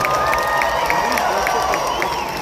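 At a cosplay contest at LA Comic Con 2024, an indoor crowd claps and cheers steadily for the cosplayers, a dense wash of applause with whoops and shouts throughout.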